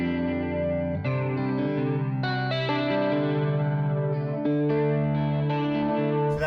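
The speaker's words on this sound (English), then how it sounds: "it's kind of got like a pretty throaty chorus sound" A Chroma Console effects pedal puts a thick, throaty chorus over sustained chords that shift every second or so, with a wobbling shimmer and some grit on each held chord, and nobody speaking.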